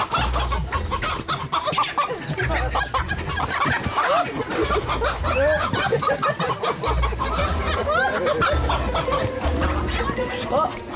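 Chickens in Côte d'Ivoire cluck and squawk frantically while being chased and caught, a dense, agitated flurry that runs throughout under excited voices.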